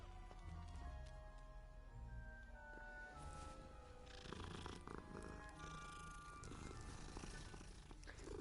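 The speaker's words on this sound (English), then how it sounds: "There's never not time to pet a digitally recreated kitty" A cat being petted in Hogwarts Legacy purrs softly and continuously over several seconds, very faint and mixed with low rustling and occasional clopping sounds in the background.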